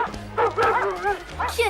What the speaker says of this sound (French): Aboie très fort, peut-être qu'ils vont comprendre.